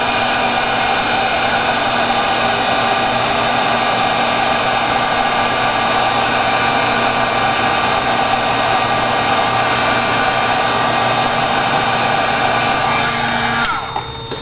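A hair dryer blows on pieces of paper with adhesive backing during a canvas art project, a loud, steady whine with a constant hum that runs unbroken for about fourteen seconds before cutting off abruptly.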